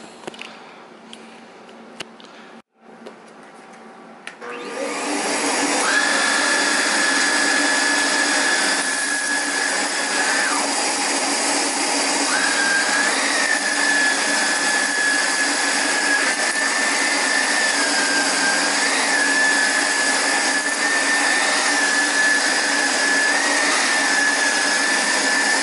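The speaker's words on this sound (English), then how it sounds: "I think that's the slowest cord winder I've ever used on a new vacuum." A Hoover Vax Air Revolve Pet vacuum winding its power cord back in, a steady motorized whir with a faint high whine that starts after a few seconds of quiet and runs on for over twenty seconds.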